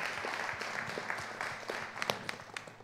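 Talk show audience applauding, a steady patter of many hands clapping at moderate distance, thinning toward the end with a few sharper individual claps.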